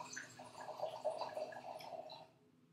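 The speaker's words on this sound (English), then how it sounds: "the last pour will be to complete the pour on the lady or gentleman who actually ordered the wine" Wine pours into a glass at a table, a soft, close gurgling trickle with small splashes lasting about two seconds before tapering off to quiet.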